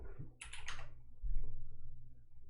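A short burst of computer keyboard typing, several quick clicks close by, over a low steady room hum.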